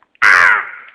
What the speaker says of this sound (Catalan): Grallava i maleïa el corb